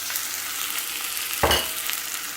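Onions frying in a pot for pilau give a steady close sizzle, broken midway by one brief scrape as they are stirred, then the hiss carries on evenly.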